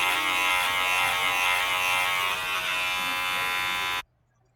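A Wahl Color Pro cordless hair clipper fitted with a number 2 guard buzzes steadily and close for about four seconds, then cuts off abruptly into silence.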